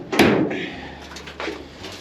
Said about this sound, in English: Might as well open the hood and I can show you that.